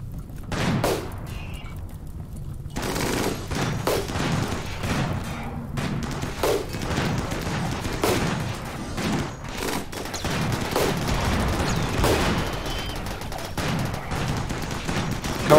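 Autocannons fire in the video game Rimworld in rapid, repeated bursts of sharp, loud reports, a dense rattling volley of shots that carries on almost without pause and without any speech.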